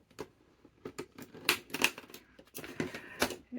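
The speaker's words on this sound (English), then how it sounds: "So I'm going to now cut out this with my knife." Craft knife cutting out paper for a junk journal secret pocket, a series of short scratchy slicing strokes in irregular bursts, close and fairly quiet, with no talking.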